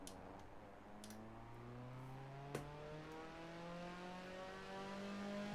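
A car engine in a video game drives along at an easy pace, its tone rising and falling through gear changes with smooth revving sweeps, fairly quiet overall, with a single sharp click partway through.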